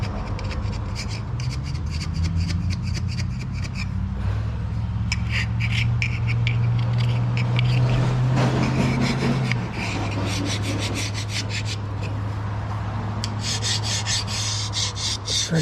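Scraping by hand on a 1961 Cadillac under repair, a steady rubbing, rasping stroke repeated in quick rhythmic passes, close and moderately loud, with no talking.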